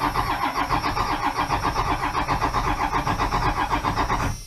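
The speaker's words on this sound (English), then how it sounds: "So I'm just going to crank it over a little bit and see if I get an oil pressure reading." A Dodge Cummins diesel truck engine cranks over on the starter in a loud, steady rhythmic chugging that runs for several seconds without catching, then cuts off abruptly.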